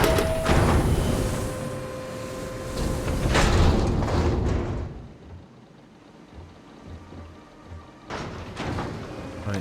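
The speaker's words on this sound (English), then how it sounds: "Cycle the airlock." Airlock cycling in the video game Starfield: loud mechanical hissing and thudding door movement at the start, a heavy clunk midway, then a low rumbling lull before another burst near the end, with no talk.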